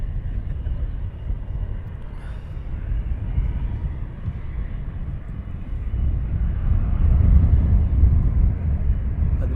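Jet aircraft arriving at Luton Airport, a steady low engine roar that swells gradually louder toward the end, continuous and fairly distant with no voices.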